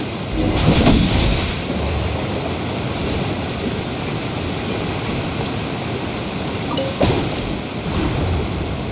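Thunder in the Genshin Impact game rumbles low and steady behind a rain-like roar, swelling near the start and again toward the end, with no talk.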